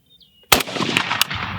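A rifle fires on a shooting range, with a sharp, loud first shot after a quiet start and two more cracks following at irregular intervals, the echoes rolling on between them.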